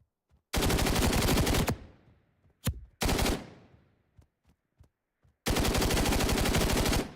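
Automatic gunfire in the extraction shooter Reaper Actual: a long loud burst, a single shot, a second sustained burst with echoing tail, a few scattered faint pops, then another long burst to the end.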